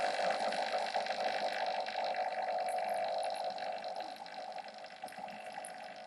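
Coffee being made: a steady, hissing, gurgling flow of hot liquid, close and even in tone, tapering off slightly toward the end, with no voices.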